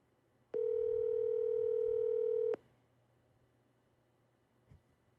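A telephone dial tone sounds on speakerphone, one steady clear tone lasting about two seconds before cutting off abruptly, followed by quiet room noise and a faint click.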